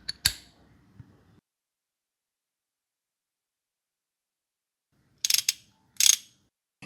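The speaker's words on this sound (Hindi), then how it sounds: "इस 4 मुंह वाले टूल के बड़े साइड से इसका सेंटर नट खुलता है कुछ इस तरह।" Four-way tool loosening the centre nut on a Hero Honda CD100 engine during disassembly: a sharp metallic clack with a short ratcheting rattle, then silence, then two later bursts of quick clicking clanks, close and isolated.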